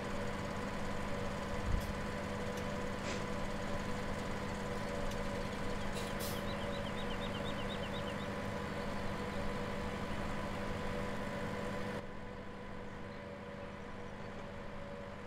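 Old tractor engine idling steadily in Farming Simulator 17, a low continuous hum with harmonic drone, moderately loud and unbroken throughout with no talking.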